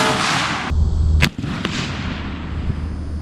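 A Remington 870 magnum shotgun with a 28-inch barrel and skeet choke fires a number 7 shot load outdoors: one loud, sharp blast that rolls off into a fading echo, with no voices.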